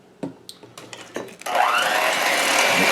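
An electric hand mixer whirs steadily after a few soft kitchen knocks, blending a large egg and vanilla extract into citrus crumble cookie dough, its motor drone continuous and close.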